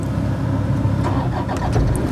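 A car engine cranks and catches in a driving-lesson setting, a steady low rumble filling the short stretch with no talking.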